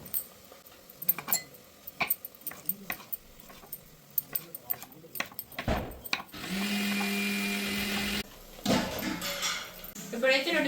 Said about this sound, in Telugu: ఇప్పుడైతే టమాటాలు కట్ చేసుకుందాం.